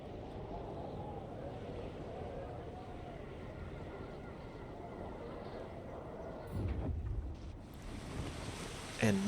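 Waves and wind on open water around a boat in the Total War strategy game, a steady low wash with a louder surge near the end.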